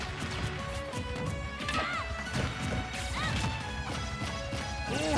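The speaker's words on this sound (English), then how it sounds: "it is a tale of two up smashes, but neither of them work" Up smash attacks in Super Smash Bros. Ultimate during a tournament match land as sharp crashing hits and whooshes, scattered among dense game effects and crowd noise.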